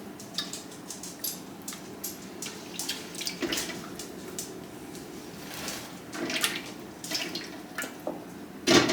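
Cooking liquid is poured off into a pan in a home kitchen, a thin continuous trickle with soft splashes and occasional clinks of cookware, close and moderately quiet, no one speaking.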